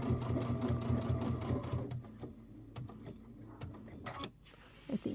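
A sewing machine stitches a quilt with fast, rhythmic needle chatter. It runs loud and steady at first, then slows into intermittent stitches and soft clicks, and stops briefly near the end.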